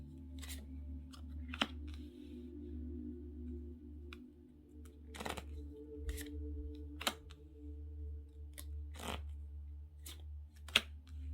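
Lenormand tarot cards are shuffled by hand in a quiet room, giving scattered crisp snaps and riffles over a low steady hum.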